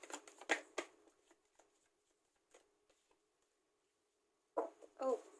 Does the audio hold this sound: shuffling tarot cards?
yes